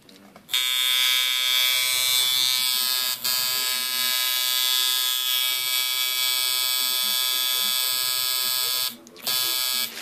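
A rebuilt Unimax coil tattoo machine buzzes steadily and loudly up close, a dense electric hum that runs almost unbroken, cutting out briefly twice near the start and end.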